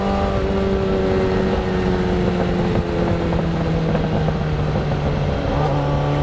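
The motor of a motorized bike climbing a hill, a loud, steady droning whine whose pitch slowly drops as it labors, with wind rushing over the microphone and no talking.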